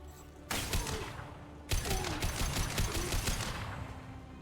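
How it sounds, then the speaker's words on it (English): High impact gunshots fire in the video game Mass Effect 2, two sharp bursts setting off rapid, rattling volleys of gunfire that run on for several seconds and then fade out. "Firing a high impact shot."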